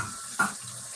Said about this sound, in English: I need to rinse out the rice